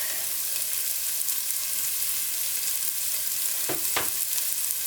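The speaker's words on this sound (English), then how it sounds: "I'm going to add my garlic." Garlic hitting a hot pan of softened, translucent vegetables for lentil soup, giving a steady close sizzle with a couple of brief sharper bursts near the end as it is tossed in.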